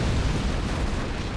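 A continuous deep rumbling blast from nuke cannon shells striking in the real-time strategy game Command & Conquer Generals, a loud, sustained broadband roar with no distinct separate impacts.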